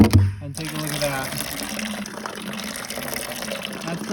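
Water gushing steadily into a sheep's water dish on a homestead, a continuous close splashing fill that follows a brief louder knock at the start, with faint voices in the background.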